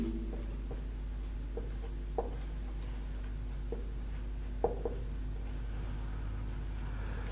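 Marker or chalk strokes on a classroom board during an accountancy lesson, a few brief scratchy taps spaced out over a steady low hum, faint and without talk.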